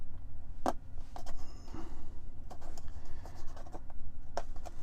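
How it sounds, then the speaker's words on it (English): A blade slices a hole in the vinyl wrap on a Tesla center console, with quiet scratchy scoring strokes and a couple of sharp ticks over a low background hum. "I'm just going to first start off by cutting a hole in the center."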